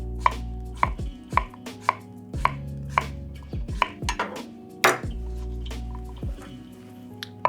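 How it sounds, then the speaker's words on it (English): A knife chops through cucumbers on the bias against a cutting board. Crisp, close, regular strokes come about once per second, with a few louder knocks and no talking. "give them a nice little slice on the bias"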